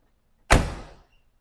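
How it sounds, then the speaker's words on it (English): A single car door on a used car at a Richmond, Virginia lot shuts with one solid, close thump that decays quickly into quiet, with no voices. "Doors closing much nicer than it did yesterday."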